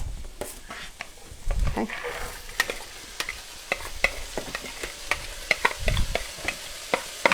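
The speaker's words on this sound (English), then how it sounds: "dump the carrots and onions and celery in the skillet" Carrots, onions and celery get stirred with a spoon in a hot skillet, giving a steady close sizzle broken by repeated scraping clicks, with a brief spoken word partway through.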